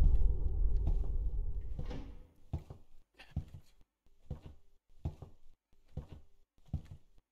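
Wooden door thuds in a horror video game, a rumbling stretch followed by a regular series of short knocks or thumps, evenly spaced and close.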